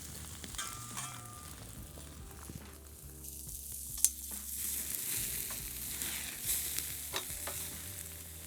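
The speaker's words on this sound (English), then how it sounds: "melted cheese, starting to crisp up and lace at the edge" Melted cheese sizzles and crisps at the edges in a hot pan for carnivore costra tacos, a steady close frying hiss with occasional stirring scrapes and clinks.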